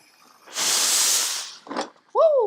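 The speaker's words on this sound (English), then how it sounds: "steam iron is going." Steam iron blasting a strong hiss of steam for about a second, followed by a short softer puff, then a voice exclaiming at the end.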